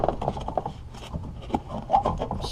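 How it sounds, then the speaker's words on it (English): A plastic pry tool scrapes and rubs against the trim as a speaker is levered out of a 2007-2012 Chevy Silverado door, producing close, uneven creaks and scuffs with small clicks, continuous for a few seconds. "just pry the speaker out, just like so"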